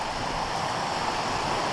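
The River Westend rushes where it meets Grinah in the Peak District, a steady, full, continuous wash of flowing water close by with no breaks.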